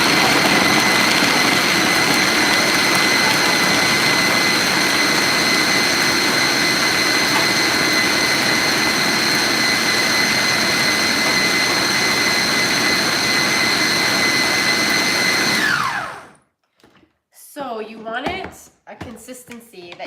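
A food processor blends ingredients for healthy holiday treats, a loud, steady, high-pitched whir that runs unbroken, then cuts out and gives way to a few brief handling noises.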